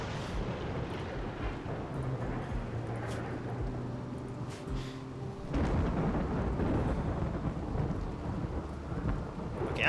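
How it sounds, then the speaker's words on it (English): A thunderstorm in the video game Rimworld brings steady rain with low rumbling thunder that swells into a louder, fuller roll about halfway through, with no speech. "There's still thunderstorms happening."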